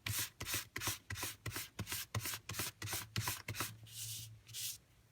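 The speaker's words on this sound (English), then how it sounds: "You're going to sand across and up and down, but we're going to do them one at a time, okay? So I'm going to do across first." Sandpaper is rubbed back and forth across inked cardstock for a faux linen technique. About a dozen short, quiet, evenly paced scratchy strokes sound close up, with no talking.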